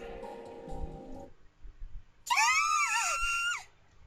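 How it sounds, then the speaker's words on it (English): Scream in the visual novel game Da Capo 2, a high shrill cry rising and wavering for about a second, heard after a few quieter game sounds and a brief spell of near silence. "Everyone turned towards the source of the scream."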